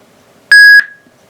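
A SoundPad MA 327 speaker gives a single loud, clean electronic pairing beep of about a third of a second, a steady pure tone with bright harmonics, fading quickly into a short ringing tail against near silence.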